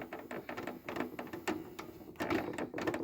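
A Marantz cassette deck mechanism stuck with its magnet not releasing, giving a steady, close, rapid mechanical chatter of repeated clicks and buzzing throughout.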